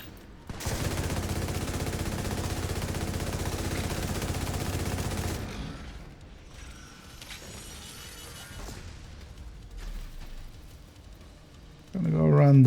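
Sustained burst of rapid gunfire in a video game shooter, loud and continuous for several seconds, then fading to quieter mechanical clatter and a sharp sound at the end.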